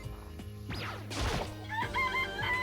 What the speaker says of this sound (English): There's chickens! This place has chickens.